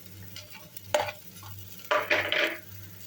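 Green chilies, curry leaves and cilantro fry in a pan while being stirred, giving scraping stirs and bursts of sizzle with quieter gaps between, close up and without talk.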